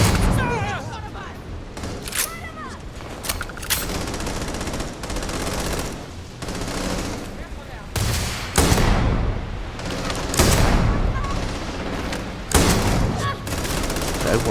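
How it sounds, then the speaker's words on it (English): Enemy gunfire in the sci-fi video game Starfield, dense sustained bursts of shots and booms that continue loudly throughout. "Everyone starts firing at me."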